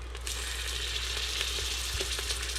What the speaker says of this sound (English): so that we can start browning our meat